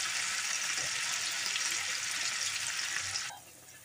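Pork broth poured into a pan of kare-kare, a steady bright rushing splash that runs unbroken for about three seconds and then stops abruptly, close and fairly loud with no talking.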